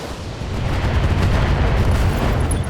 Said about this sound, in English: Alright, we'll fire our LRMs